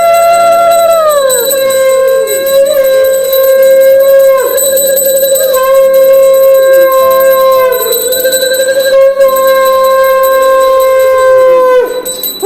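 Conch shell (shankh) blown during a Janmashtami puja at home: a loud, piercing sustained horn-like blare sounded in several long blasts, each swooping and wavering in pitch, with a steady bell-like tone ringing underneath.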